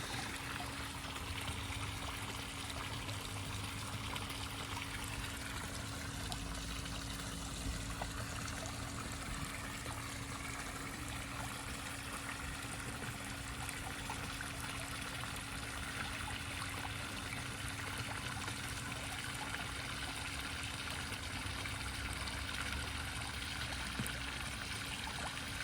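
A model Titanic submersible fills with water as it sinks, with continuous trickling and bubbling, a steady low hum underneath and no voices, lasting a long stretch.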